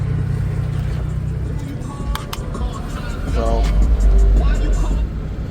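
A Chevrolet Trailblazer engine runs after its fuel pump has been replaced, a low steady rumble that swells louder toward the end, with a voice talking over it.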